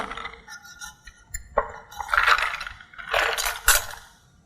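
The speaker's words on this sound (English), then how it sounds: "And drop some ice cubes in." Ice cubes drop into a glass of sparkling San Pellegrino, several bright clinks and knocks spaced over a few seconds, close and clear against quiet fizz.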